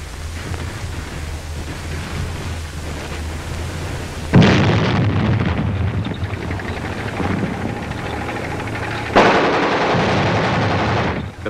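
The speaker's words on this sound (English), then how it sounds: "The battle from inside a tank." World War II battle heard from inside a tank: dense, continuous machine-gun fire and heavy explosions, with two especially loud blasts landing several seconds apart amid the rattling barrage.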